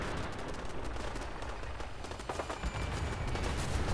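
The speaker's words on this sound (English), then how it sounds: "someone's shooting off nukes" Distant nuke launches in Fallout 4, a dense rumbling barrage of booms and blasts rolling on steadily and swelling near the end, with no voices.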